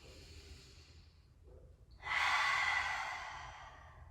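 During a yoga flow, a quiet inhale is followed by a strong, breathy open-mouth exhale, close and audible, that swells quickly and then slowly fades.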